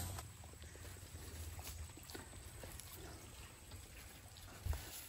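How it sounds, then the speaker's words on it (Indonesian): Steady low rush of water flowing in the Lebang river near a waterfall at Lebang Hulu, a continuous faint wash of running water with no voices over it. "Nah, inilah sungainya."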